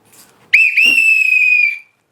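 A conductor-style whistle, loud and close, sounds once: a sharp onset and a brief dip, then a shrill blast held for about a second before cutting off into silence.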